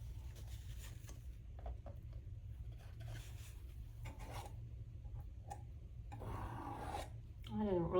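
Palette knife or scraper rasping orange paint off a canvas, a steady dry scraping texture running under a low background hum, with a louder burst of rubbing near the end.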